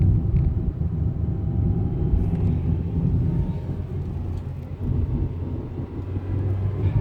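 A car drives around a roundabout, a steady low engine and road rumble heard from inside the cabin, continuous and fairly loud with no talk.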